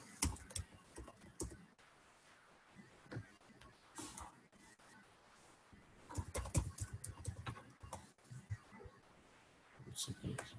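Typing on a computer keyboard while writing jQuery code, bursts of quick clicking keystrokes with pauses between, heard close and fairly soft under someone speaking.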